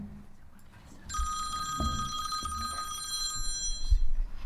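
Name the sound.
cell phone ringing during committee meeting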